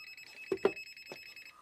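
An HTC DM-81 digital multimeter sounds its live wire detection alert on a 220-volt line, a thin electronic tone with a few short pulses, fairly quiet and without talk.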